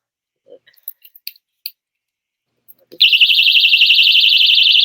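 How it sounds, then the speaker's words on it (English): A personal safety alarm goes off after its pin is pulled, beginning with a few small clicks and handling noises, then a sudden loud, piercing, warbling electronic shriek that continues without break. "this is a personal safety alarm that I absolutely love to carry, and it does this"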